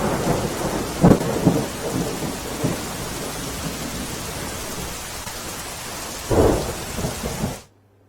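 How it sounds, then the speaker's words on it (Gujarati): Heavy rain pours in a steady hiss while low rumbles of thunder roll in twice, then the sound cuts off abruptly. "સવારથી વરસાદી માહોલ છવાયેલો છે"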